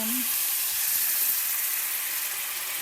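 Sweet and sour sauce sizzles in a hot skillet with a little leftover oil from frying pork ribs, a steady close hiss with no talking.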